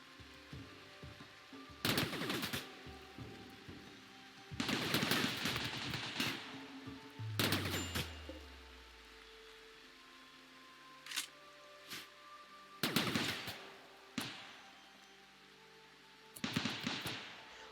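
Gunfire in RimWorld, with sharp, loud bursts of rapid shots spaced across the stretch, broken by quieter gaps and a single low descending rumble.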